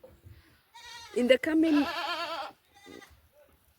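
Goats on a Kenyan goat farm bleat in one prolonged, wavering call close by, with someone talking briefly around it.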